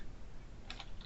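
A few quick keystrokes on a computer keyboard, faint clicks in a short cluster near the end over low background noise.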